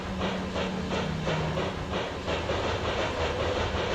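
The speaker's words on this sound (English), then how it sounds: "Train number 1 is really useful means of transport to get about Zone 1" A train runs in the video game OFF with a continuous, loud rumbling hiss carrying a regular rhythmic clatter, steady from start to end with no voices.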